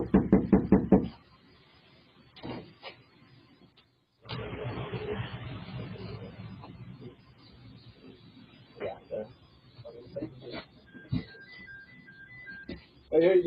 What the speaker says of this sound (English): A deputy knocked on the front door